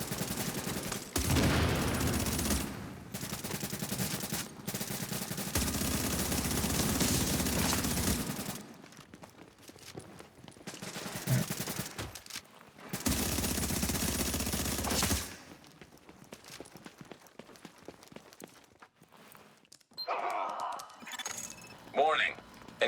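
Rapid bursts of automatic gunfire in a shooter video game, loud and dense in long sustained volleys broken by short gaps, with scattered clinks and shattering debris and voices speaking in places.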